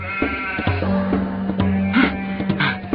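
Sheep bleat in a farm field, with several close, overlapping calls holding a steady wavering tone over a rough outdoor background.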